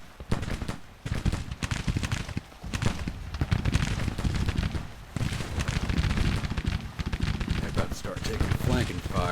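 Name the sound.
musket gunfire in Civil War video game battle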